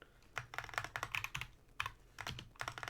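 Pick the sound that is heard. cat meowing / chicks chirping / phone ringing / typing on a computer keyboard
typing on a computer keyboard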